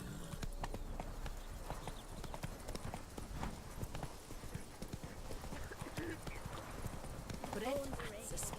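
Steady clip-clop of horse hooves while riding in The Witcher 3: Blood and Wine, a continuous galloping patter under ambient game sound, with a person talking over it throughout.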